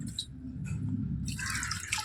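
Soaked rice for idli batter being rinsed in water: soft drips and sloshing, then a brighter, busier run of splashing and trickling as the grains are stirred and washed, close and fairly quiet.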